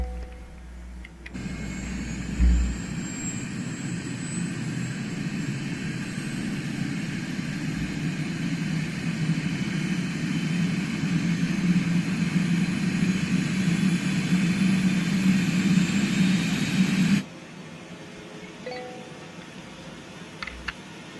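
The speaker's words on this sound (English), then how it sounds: "Let's go ahead and start engine number 1." An Airbus H160 helicopter engine starts up in Microsoft Flight Simulator. A steady turbine roar and high whine build slowly and hold, then cut off abruptly, with no talking.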